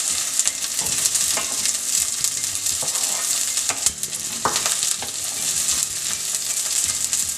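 Onions and okra frying in a pan for an Indian bhindi dish, a steady crackling sizzle with scattered stirring clatters throughout, close and continuous with no talk.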